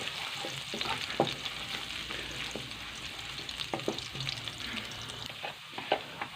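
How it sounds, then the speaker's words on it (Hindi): Garlic sizzles steadily in hot ghee in a home kitchen pan, a continuous close frying hiss broken by occasional stirring clinks and scrapes, with no voices over it. "यहाँ पे मैंने घी में शामिल किया लहसुन और लहसुन को हम कर लेंगे थोड़ा सा ब्राउन"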